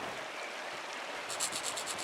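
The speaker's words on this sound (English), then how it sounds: "There's a waterfall. Let's check the waterfall." A waterfall in the video game Pentiment gives off a steady, soft rushing wash of water noise, with a faint run of rhythmic high ticks in the last second and no speech.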